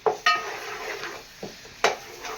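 A spoon clatters and scrapes against a pan while onions are stirred with ginger garlic paste, giving several sharp metallic knocks and softer scraping strokes between them, fairly close.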